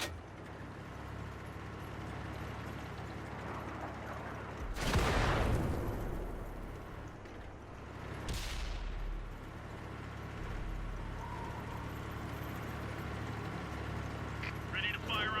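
Two heavy booming shots from an M26 Pershing tank cannon in a video game, a few seconds apart, each a loud blast that rolls off slowly, over steady engine rumble, with game voice lines around them.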